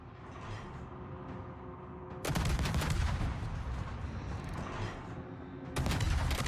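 Warship guns firing in World of Warships, with heavy booming blasts breaking out over a mechanical rumble, then a sustained rolling roar and a second loud volley near the end.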